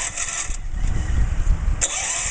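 A John Deere 110 compact lawn tractor's small engine cranks over and catches, settling into a steady rumbling run with no voices.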